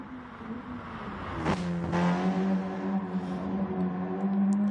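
A race car engine revs in the GT Sport driving game, a sharp gear change followed by a rising, sustained high-pitched engine whine, moderately loud and with no talk.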